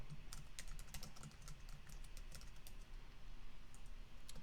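A song name is typed on a computer keyboard in a quick, steady run of crisp key clicks, close and clear with no talking.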